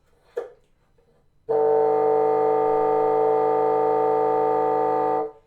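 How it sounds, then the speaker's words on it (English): A sustained woodwind multiphonic, A-LH3 fingering: several pitches sounding at once in a buzzy, steady chord held for about four seconds, after a brief breath and key click. "So the third multiphonic is A minus left hand 3."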